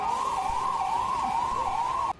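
A fire brigade siren wails steadily at a blaze in a building in Mumbai, its pitch rising and falling in a continuous loud cycle that cuts off abruptly at the end.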